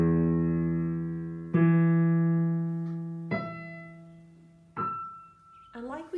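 Piano playing E notes in octaves, little finger below and thumb an octave above, with the sustain pedal held; a few separate struck notes ring out and decay one after another, clear and unaccompanied.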